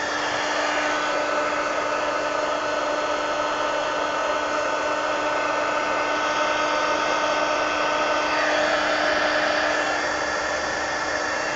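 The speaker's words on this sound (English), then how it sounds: "now I've got to dry that before I can turn the page." A hair dryer blows steadily and loudly at close range to dry a page of an altered book, a constant whirring roar with a slight shift in pitch partway through.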